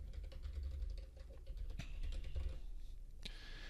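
Quiet, steady clicking of computer keys as an email address is typed, a soft continuous patter with no talking.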